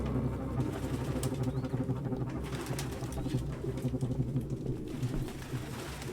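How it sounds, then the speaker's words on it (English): Several pigeons cooing in Detroit: Become Human, low throaty rolling coos repeating and overlapping close by in a cramped apartment, with faint background hum and no talk. "No human could live with all these fucking pigeons."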